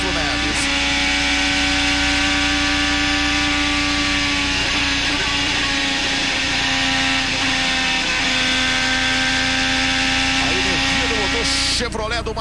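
High-pitched IndyCar Chevrolet engine wails steadily at speed during the 2013 Texas race, a loud sustained whine under continuous commentary.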